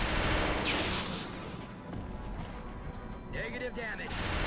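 Video game gunfire as XCOM: Enemy Unknown soldiers shoot a Muton, with bursts of shots and crashes under a busy mix, ending in a bright electronic warble.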